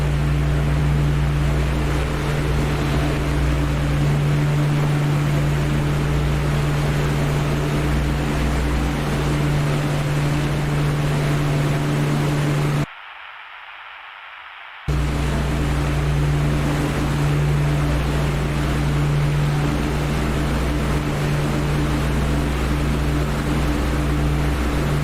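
A fighter plane's engine drones as it is pushed to burn out in a flight simulator game set among 109s: a loud, steady, unbroken roar with a brief total dropout in the middle, no voices.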